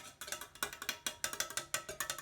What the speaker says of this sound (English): whether I'm tapping on the outside where the water is or on the inside